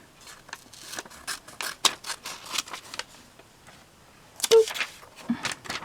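Scissors snip through magazine paper to cut out an image for a glue book collage, a run of crisp, close, repeated cuts with rustling paper between them.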